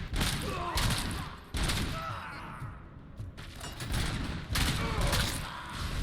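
Rapid gunfire from the Robocop: Rogue City shooter, repeated bursts of shots and thuds in clustered volleys with brief lulls between, fairly loud and close, backed by a faint voice.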